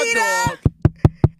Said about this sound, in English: I'm knocking at your door.